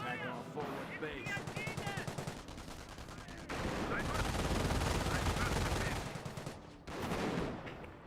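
Rapid bursts of gunfire and machine-gun fire crackle through a Company of Heroes video game battle, loud and dense, with brief pauses and talk mixed in.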